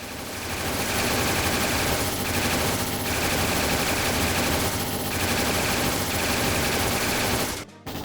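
Rapid machine-gun style gunfire in the role-playing game Trails in the Sky SC, loud sustained bursts with brief dips, running almost the full length before stopping sharply at the end.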